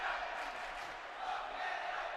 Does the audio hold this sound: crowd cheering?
yes